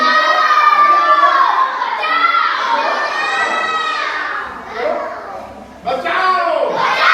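A group of children shout the Hindi word for help together at a library session, loud and close, in repeated overlapping calls with a short pause before a fresh burst.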